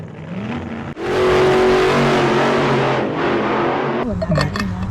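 A car at a drag strip revs and accelerates hard, engine roaring up loudly after a brief idle, holding a strong sustained drone before fading and easing off.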